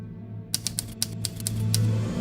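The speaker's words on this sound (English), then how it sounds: "Touch Type Tale, a real-time strategy game where the action is controlled by typing." Rapid clacking keystrokes from the typing-controlled strategy game Touch Type Tale, about a dozen crisp taps in a quick uneven rhythm over a low steady hum after a brief quiet start.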